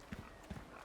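Cow in the video game Resident Evil 4 Remake, two soft, low, muffled thuds or hoof-like steps about half a second apart, faint and distant against a quiet background.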